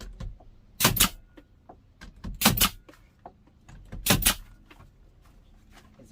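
A staple gun fires three loud, sharp snaps into shiplap panels inside a 2022 Mercedes Sprinter 144WB camper van conversion, with quieter clicks, taps and handling noises in between, close and without speech.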